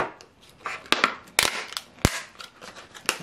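Packaging for a Pittsburgh pocket thermometer from Harbor Freight is ripped open by hand, giving a close run of sharp plastic and cardboard crackles, snaps and tearing bursts at an irregular pace.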